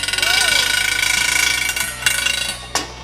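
A big SDS Plus rotary hammer hammers loudly and steadily up close, a dense rapid mechanical pounding that runs throughout with a few sharper clacks near the end.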